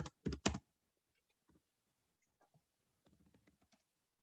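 Keys clacking on a computer keyboard, a quick loud burst of three strokes at the start, then scattered faint taps and a soft cluster of light typing near the end, close and otherwise quiet.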